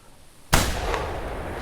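A single sharp rifle shot rings out in theHunter Classic during a boar hunt, loud and sudden after quiet, followed by a long rolling echo that fades slowly.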